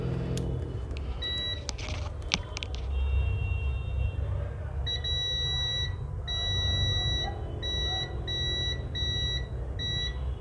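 A multimeter on continuity mode gives a run of short, steady electronic beeps while its probes test a capacitor on a dead mobile phone's circuit board for a short. The beeps repeat at an even pace over a low background hum.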